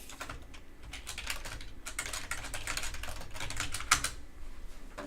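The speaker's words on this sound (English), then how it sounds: "I was typing into the wrong browser" Rapid typing on a computer keyboard, a dense run of close key clicks with one louder strike near the end, steady and alone with no voices.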